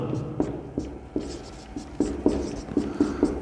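Chalk or marker writing on a board during a class 10 maths lesson, a run of short scratchy strokes and taps at an irregular, steady pace, fairly close and moderately loud, with no talking.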